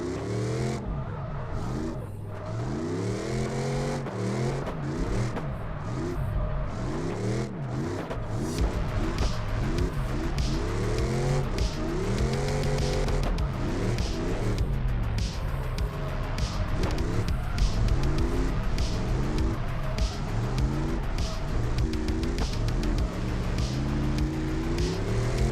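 A car engine in a drifting video game revs hard and repeatedly, its pitch rising and falling in constant sweeps through a long stretch of sliding, loud and close throughout.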